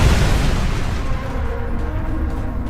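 Missile explosions in a war zone in the game ADACA: a loud, deep rumbling boom that fills the space and slowly decays into a heavy, sustained low roar.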